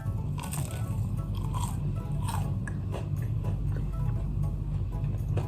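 Biting and chewing into a crispy buttered roti'o bun fresh from a transparent low-watt air fryer, close crunchy bites followed by soft mastication, intimate and steady over a low background hum.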